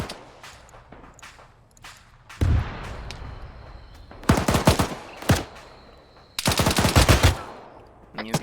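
Loud machine-gun bursts in Arma 3 hammer out in clustered volleys, with quieter scattered shots and distant reports filling the gaps between the heavier strings of fire.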